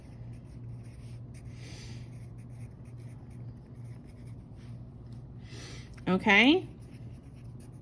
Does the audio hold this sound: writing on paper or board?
yes